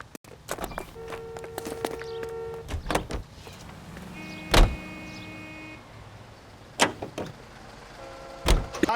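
Footsteps, a car door and power-window whirs, then engine sounds as a car is entered and driven off in the 1940s Los Angeles crime game LA Noire, with several sharp door thumps spread across the moment and no talk.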